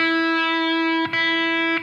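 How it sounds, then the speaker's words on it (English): An electric guitar plays a single E on the fifth string at the fifth fret, ringing bright and sustained, then is picked again twice in quick succession. "I'm going to play the 5th string at the 5th fret."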